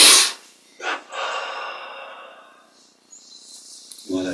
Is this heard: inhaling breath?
yes